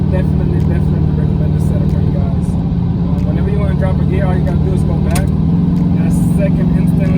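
A truck with a TH400 automatic transmission cruises in high gear at about 35 mph and 1,500 rpm, its engine holding a steady, loud low drone throughout.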